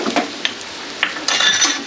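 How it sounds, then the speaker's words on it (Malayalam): A spoon stirs chili powder into stingray pickle in a hot pan. Close scraping and clinking strokes sound over a sizzling fry, with a louder burst of sizzle near the end. "ഇനി ഇളക്കാം"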